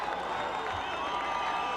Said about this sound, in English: So the crowd now getting into it.